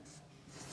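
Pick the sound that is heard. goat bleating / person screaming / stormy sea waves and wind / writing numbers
writing numbers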